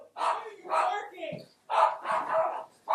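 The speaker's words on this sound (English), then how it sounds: "My dog is insane. She just barks every time my brother goes downstairs" A dog barks several times in short bursts, close and fairly loud, with a brief whine between the barks.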